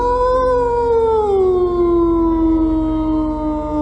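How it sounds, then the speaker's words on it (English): A wolf howls on a mountain, one long sustained wavering call that slowly slides downward in pitch, loud and close with no voices over it. "There's really a wolf here."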